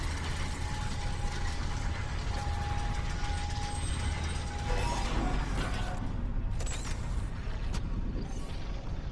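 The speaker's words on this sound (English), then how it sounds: "we'll take the elevator up" A sci-fi elevator rises in the 2023 Dead Space remake, a steady loud mechanical rumble with ratcheting, grinding gear noise and a low hum throughout, with occasional clanks over the continuous drone.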